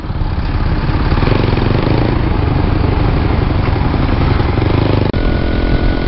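A moped engine in Vietnam, heard while riding near Hoi An, drones loud and steady throughout, with constant wind and road rush, a brief dip near the end and no voices.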